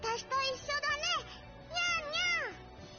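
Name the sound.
cat girl imitating a cat's meow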